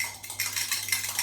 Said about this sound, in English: beat the egg.